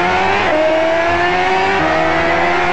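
A car engine revs in a racing video game steered by a held sheet of paper that a camera tracks, giving a loud, continuous engine drone whose pitch rises and shifts throughout, with no talking.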